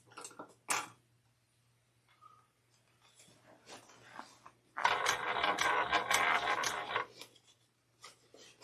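A sewing machine stitches fabric in a steady, close mechanical run of about two seconds, preceded by faint handling clicks and light fabric rustling.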